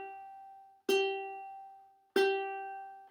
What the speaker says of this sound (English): Okay, so we'll start with the G string.